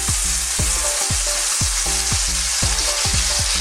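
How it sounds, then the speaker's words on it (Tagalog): Hot oil crackles and spatters steadily as bean sprout fritters (ukoy) fry in a pan, a dense close sizzle with repeated sharp pops and no voices. "Titilamsik na po ang mantika niya pero napakasarap po nito."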